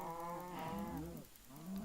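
A cow in the Minecraft video game moos twice, a loud drawn-out low bellow with harmonics followed by a shorter second call, close and alone without talk.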